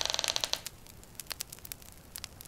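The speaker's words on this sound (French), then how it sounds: "Puis la porte s'ouvrit dans un lent grincement." A door swings slowly open with a creak: a quick run of ratcheting, creaky pulses at first, then scattered faint clicks and ticks as it settles, heard alone at low volume.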